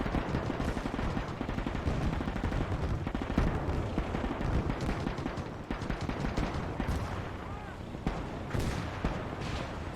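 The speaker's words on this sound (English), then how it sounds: "I've told all of our guns to fire on this road" Artillery and autocannon fire rage in the World War II strategy game Gates of Hell: a dense, relentless barrage of overlapping booms and rapid shots, sustained and loud without pause.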